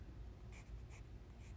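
A pencil scratches out a quick rough sketch at close range, its light strokes faint and soft in three brief bursts against a low, steady background hum.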